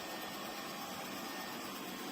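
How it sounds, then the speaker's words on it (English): Quiet household vacuum cleaner running steadily nearby, a smooth continuous whooshing hum with no pauses and no voices. "And as you can listen, it's a quiet vacuum cleaner."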